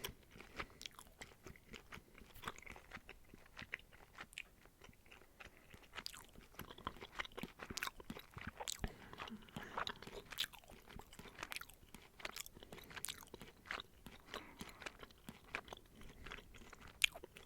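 Gum is chewed close to the microphone, a steady run of soft wet smacks and crunchy clicks in uneven rhythm, quiet and intimate with no talking.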